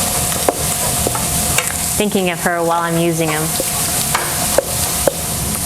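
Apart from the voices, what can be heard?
sausage frying and being stirred in a pan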